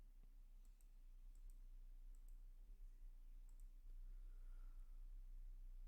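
A few faint, sharp mouse clicks on an on-screen Allow button, spaced irregularly over a quiet background hum.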